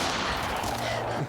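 A musket volley fired during a training scene, a single dense burst of gunfire filling the whole moment, loud and close with a brief rolling tail.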